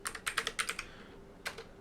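Rapid keystrokes on a computer keyboard while code is written in Android Studio, a quick run of close, crisp clicks, a short pause, then a couple more taps.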